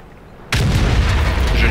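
A tank cannon fires in World of Tanks, a sudden loud boom that cuts in after a quiet moment and rolls on into a sustained rumbling blast.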